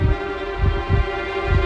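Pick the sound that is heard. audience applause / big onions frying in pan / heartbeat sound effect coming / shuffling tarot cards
heartbeat sound effect coming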